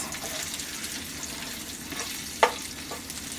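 Sausage browning in oil in a frying pan gives a soft, steady sizzle with faint crackles and a single sharp click partway through.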